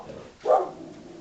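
A single short dog bark sounds at moderate distance, standing out briefly above a low background hum.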